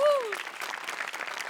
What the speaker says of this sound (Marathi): आमिरच्या बँडसाठी पण टाळ्या